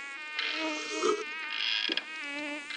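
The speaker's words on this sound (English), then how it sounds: "That gum mosquito's trying to carry me off." A mosquito whines steadily close by on a hot day, a thin continuous buzz that swells and dips as it moves, with no other sounds.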